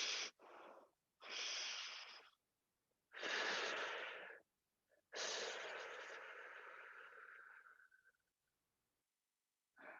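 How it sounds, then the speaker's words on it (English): Deep breathing during a stretching session, slow drawn-out inhales and long exhales, close and airy, several separate breaths with silent pauses between, the final exhale fading gradually. "a double inhale,"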